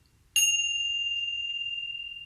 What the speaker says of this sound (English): So these are Tibetan chimes or tingsas